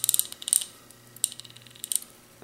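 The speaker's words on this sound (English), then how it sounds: "A made in the USA industrial wrench, 1972, guys. 1972. Listen to this thing." A 1972 American-made industrial ratchet wrench, well greased, clicking in quick bursts of sharp, close metallic ticks with brief pauses between runs, no voices.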